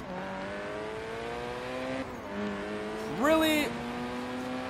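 Audi S1 Turbo engine in Forza Horizon 3 droning steadily at low revs, then briefly rising in a sharp rev near the end, with a voice talking over it.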